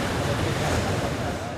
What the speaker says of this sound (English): Strong waves were seen punching the shore in the northern Taiwan city of Keelung Thursday